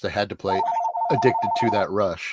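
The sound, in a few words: telephone ringing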